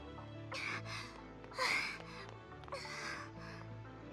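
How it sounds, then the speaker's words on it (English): Breathy panting from a character in the visual novel Norn9: Var Commons, a run of soft rhythmic gasps with brief pauses, heard over steady background music. "Panting."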